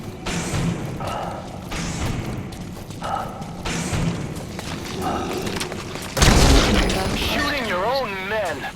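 Gunfire in Metal Gear Solid V, with repeated shots and thuds and a loud burst near the end, all under a busy, continuous game soundscape.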